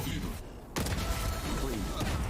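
A single sharp gunshot from a Valorant replay during a VCT Americas esports match cracks out suddenly, followed by the continuous noise of the game and crowd, with commentators talking throughout.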